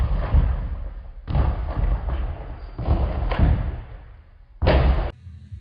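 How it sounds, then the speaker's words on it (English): Gymnast landing a round off back handspring back tuck on a tumbling floor, giving loud, close thuds in bursts separated by short pauses, with a final sharp impact near the end. "The first one that I'm going to be doing is a round off back handspring back tuck."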